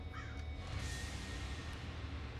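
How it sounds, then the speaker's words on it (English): A bird caws once, fairly faint, over a steady low outdoor rumble in Wolfenstein: The New Order. "A bird."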